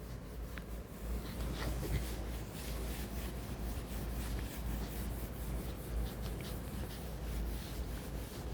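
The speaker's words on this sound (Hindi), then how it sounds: "इसको मिटा रहा हूँ मैं" An eraser rubbing across a board in a fluid-mechanics lecture, a steady, close scrubbing and swishing that runs continuously with no talk over it.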